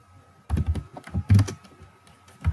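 HTML code is typed on a computer keyboard, close up, in quick irregular bursts of key clicks and thumps. The clicks come after a quiet start.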